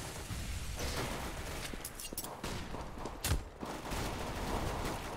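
Gunfire during a competitive Counter-Strike-style team match at ESWC 2015, a dense, continuous rattle of shots with one sharper, heavier burst midway, sounding close and loud throughout.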